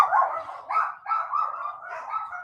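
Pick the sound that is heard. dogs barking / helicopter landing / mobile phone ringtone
dogs barking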